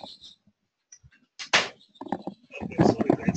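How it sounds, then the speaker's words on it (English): A door is pushed shut at home with a sharp, close thump and brief rattle, surrounded by scattered small knocks and followed by a voice talking. "Let me try to shut down the door one moment."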